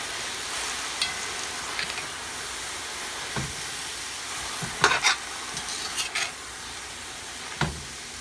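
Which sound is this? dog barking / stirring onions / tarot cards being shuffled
stirring onions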